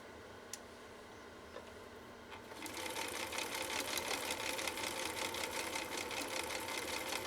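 A 1960s Husqvarna Viking 6440 sewing machine, recently repaired and adjusted, starts up and runs steadily with a fast, even mechanical whir and needle clatter after a few faint ticks, close and alone without talk.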